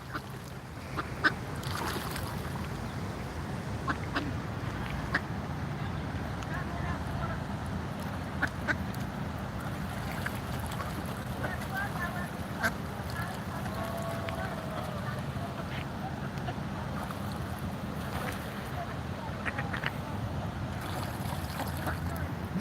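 Ducks and ducklings quack near water outdoors at a protest in Washington DC, scattered calls over a steady broadband wash of ambient noise, with people talking faintly in the background.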